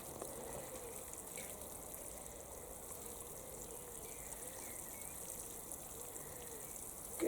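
Self-seeded flowers in a kitchen garden get a good soaking, water gushing in a steady, faint rush onto the soil, unbroken for several seconds with no voices.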